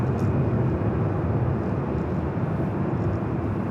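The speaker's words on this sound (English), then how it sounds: "Airbus. Technically, this is an A319." An Airbus A319 airliner at LAX gives off a loud, steady broadband jet roar that holds constant with no talk.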